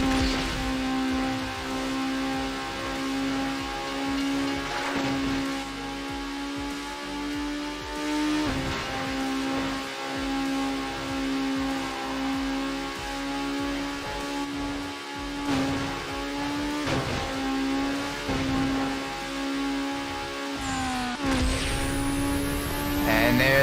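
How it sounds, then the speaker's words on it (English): A Mazda Miata in Need For Speed Underground howls at high revs on a sustained nitrous boost, a steady loud engine tone with harmonic whine and brief dips as gears shift, speech faintly present. "Let's use a little bit of nitrous here."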